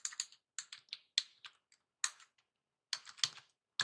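Python code typed on a computer keyboard, quick clustered bursts of crisp keystrokes with short pauses, close and quiet, alone without talk.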